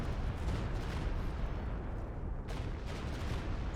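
Rocket barrage explosions in a Company of Heroes 2 1v1 tournament match, a dense, continuous rumble of blasts and booming impacts filling the whole stretch with no clear pauses.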